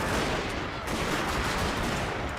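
Dense gunfire rattles without pause in the Fall of the Samurai video game, loud overlapping volleys and rapid shots blending into a constant crackling roar.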